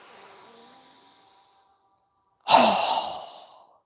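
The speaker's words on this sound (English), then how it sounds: "exhaling with a strong breath through our mouth" Two strong breaths are pushed out through the mouth during yoga breathing practice. A softer, longer airy exhale comes first, then a short silence, then a louder, forceful whooshing breath that trails off, with no talk.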